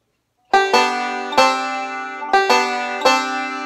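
Banjo first and second strings plucked together with the second string fretted at the first fret, five bright twangy double-note attacks ringing close and clear after a brief silence.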